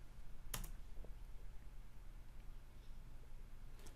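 A short run of clicks from a computer keyboard as a console command is typed, a sharp keystroke near the start, a few faint taps after it, and a final click at the end, all quiet.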